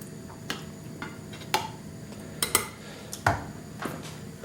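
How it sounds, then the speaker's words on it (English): A spoon clinks and taps against a baking dish while spreading tomato sauce across the bottom for an aubergine parmigiana, with sharp, irregular knocks spaced over several seconds and no talk. "all I'm doing is just taking a spoon, and I'm going to put a little bit of sauce at the bottom"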